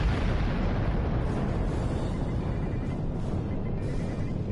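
Energy weapons and torpedoes fire in a space battle in Star Trek Online on PS4, a loud, dense, continuous roar of blasts and rumbling explosions that never lets up.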